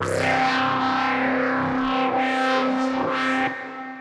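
A single sustained C note from a dubstep synthesizer patch in Logic Pro X, gritty and heavily distorted, with a wobbling, sweeping tone that pulses several times before cutting off.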